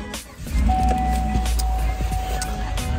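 A pickup truck driving on a snowy road in cold Minnesota weather, a steady close engine rumble with a faint whine, heard from inside the cab; no voices.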